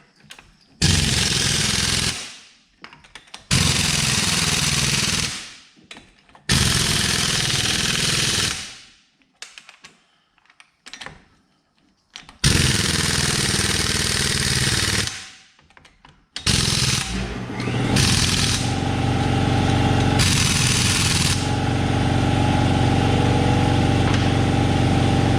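A Case 930 tractor engine cranks in several loud, broadband bursts separated by silences, then catches and settles into a steady, rumbling idle that runs on to the end.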